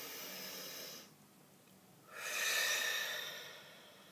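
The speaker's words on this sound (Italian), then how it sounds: "facciamo un bel respiro profondo" A deep breath, with a long airy exhale that fades into a near-silent pause, then a stronger, louder rush of air as the next breath is drawn in and released, close to the microphone.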